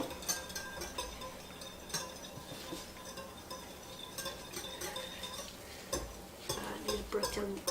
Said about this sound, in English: So I have 2 whole eggs and I have a cup of milk. Mix that together for me.